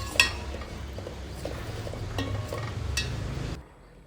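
Bottle gourd fried in ghee simmering with half-cooked moong dal for payasa, with soft stirring, faint clinks of a utensil against the pot and a low steady bubbling background, ending abruptly.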